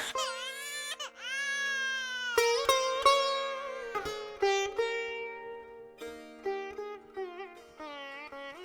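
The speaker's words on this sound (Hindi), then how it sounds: "ये तो बच्चे की रोने की आवाज है।" An infant cries loudly and continuously in long wailing bursts broken by brief gasping pauses, close and dominant, with no other sounds over it.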